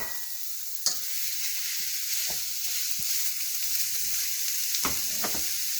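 Ground beef fries in a pan with garlic and onion, giving a steady close sizzle throughout with a few sharp stirring scrapes and clinks of the utensil against the pan.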